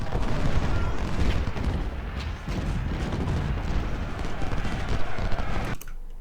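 Troops fire in Ultimate General: Civil War during the battle of Chickamauga, a dense, rolling crackle of musketry mixed with deeper booms that continues without a break and then cuts off abruptly near the end, with some voices underneath.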